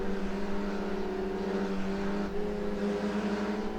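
Race car engine in rFactor 2 on the Spa circuit, a steady loud harmonic drone held in fourth gear, pitch dipping slightly under braking then sustaining again, continuous for several seconds with no talk.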